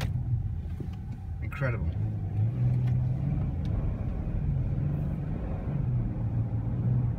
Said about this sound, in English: More traffic on the way. Just doesn't stop.